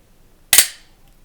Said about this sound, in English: sending the slide home on an empty mag